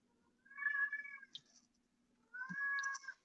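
A cat meows twice, drawn-out and talkative calls separated by a short pause, close and clear over a faint steady hum.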